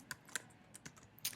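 Computer keyboard typing while writing a closing passage: a few sparse, crisp key taps at an uneven pace, close and quiet.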